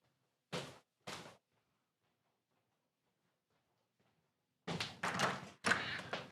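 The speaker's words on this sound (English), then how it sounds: "listen to me walking out the door of my studio" Two quick, near thuds as a studio door is pushed open, then a few seconds of quiet before louder thumps and clatter close by, with no voices.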